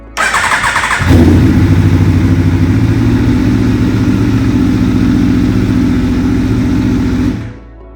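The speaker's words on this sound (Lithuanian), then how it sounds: "Bandom užvesti." An Aprilia Tuono motorcycle cranks briefly, then fires up and settles into a loud, steady, throbbing idle with slight revs, close by, before cutting off at the end.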